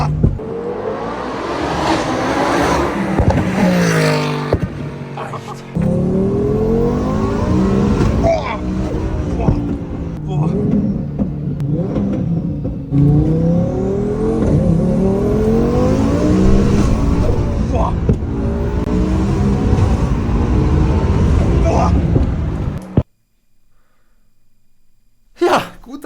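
A Lamborghini roars and revs hard on a closed-off road, the engine note rising and falling in repeated loud pulls for over twenty seconds, then cutting to near silence.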